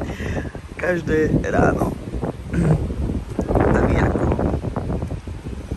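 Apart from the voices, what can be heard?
strong wind blowing into the microphone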